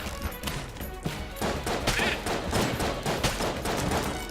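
Rapid bursts of gunfire from the bullet-hell game Enter the Gungeon crackle continuously amid a crowd of enemies, dense overlapping shots and impacts at steady loud volume with no talking.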